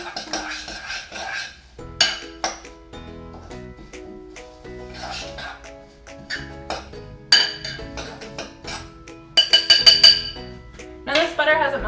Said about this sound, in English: So now I'm going to stir up this mixture.